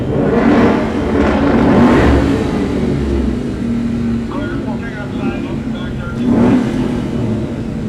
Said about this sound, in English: as we continue to admire these beautiful Mustangs coming by